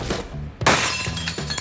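A pane of ordinary brittle glass shatters in one sudden, loud crash, followed by tinkling fragments settling close by.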